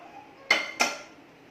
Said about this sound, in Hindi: गैस बंद कर देंगे और इन्हें एक प्लेट में ट्रांसफ़र कर देंगे